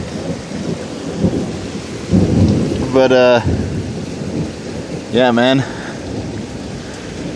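Heavy rain pours steadily through a violent thunderstorm, with low rumbling thunder building twice, around three and five seconds; a voice says a few words partway through.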